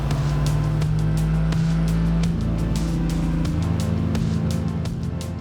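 An Italian Ferrari's engine roars loudly and continuously while driving, its pitch climbing steadily and shifting partway through, like a car accelerating through the gears.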